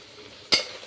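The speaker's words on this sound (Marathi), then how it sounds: "आता आपल्या भाज्या चांगल्या परतल्या गेल्या" A single quick scrape of a spoon through vegetables sautéing in a pan for veg pulao gives one short, bright stir-and-sizzle burst over a faint background hiss.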